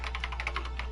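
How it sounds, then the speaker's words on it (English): Computer keys clicking in a quick, even run as Kyoko types in Danganronpa, close and crisp, about a dozen strokes with no voices. "The only sound was the flat, precise clicking of keys as Kyoko typed."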